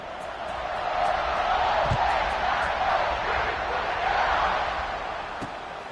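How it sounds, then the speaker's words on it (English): A packed stadium crowd roars in a college football video game, SMU at Ohio State, as a steady loud buzz of massed voices with scattered thumps and shouts. "this crowd is buzzing after that last score"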